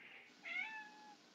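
A small pet cat lets out a single soft, drawn-out meow, faint and somewhat distant against a quiet room.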